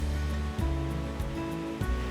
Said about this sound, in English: The water flows underneath and a wave action is created by the weir walls that then pushes debris off the screen